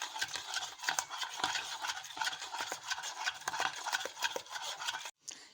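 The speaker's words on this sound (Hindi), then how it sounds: "तो अच्छी तरह इसको मिक्स कर रही हूँ, ये सॉस बना रही हूँ।" A spoon steadily stirring milk into a sauce for Russian salad, with continuous scraping and soft clinks against the bowl in an irregular rhythm, close and moderately quiet, ending in a brief pause.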